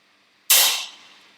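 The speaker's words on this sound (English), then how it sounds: "And pull the trigger" A single sharp 9mm pistol gunshot in a horror video game, loud and close with a bright crack that decays over about half a second, alone with no talk.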